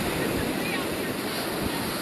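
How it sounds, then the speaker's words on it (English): Rough surf breaking on a steep beach with a sharp drop-off, waves around three feet at short intervals, a dense continuous roar of churning water and wind with no pauses. "Waves are running"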